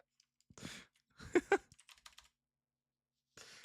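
A few scattered clacks and taps on a computer keyboard with half its space bar broken off, quiet, close by and separated by pauses.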